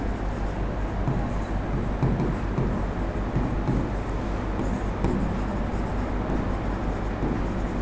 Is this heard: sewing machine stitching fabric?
no